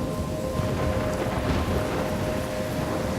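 A thunderstorm rages in Life is Strange Remastered, dense rain hissing continuously with deep rolling thunder rumbling underneath, loud and enveloping with no voices.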